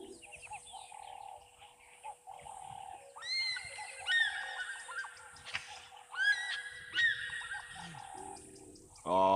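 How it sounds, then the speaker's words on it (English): An African fish eagle calls at a waterhole with a series of ringing, yelping cries repeated in bursts, heard at a moderate distance over quieter bird chatter and faint background sound. "Was it African fish eagle calling?"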